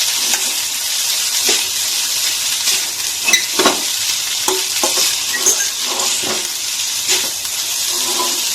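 Egg sizzles and fries in a pan for egg noodles, a steady loud crackle with occasional scraping and stirring clicks throughout, with no voices.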